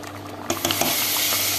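Chopped garlic sizzles loudly in hot oil in a pot for Filipino arroz caldo, with a steady hiss and a few scraping clicks of stirring near the start; no one talks.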